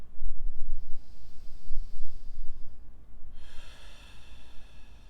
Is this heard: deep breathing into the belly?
yes